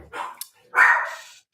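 A dog named Doodle barks twice nearby, a short bark followed by a longer, louder, drawn-out one, with no talking over it.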